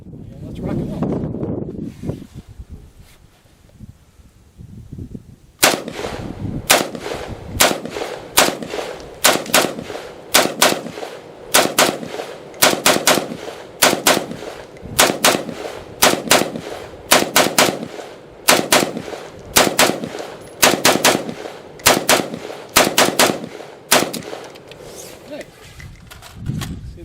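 A C93 Sporter rifle fires steel-case .223 rounds at an outdoor range, sharp loud shots in a steady evenly spaced string after a short windy lead-in, with wind buffeting the microphone and some low talk early on.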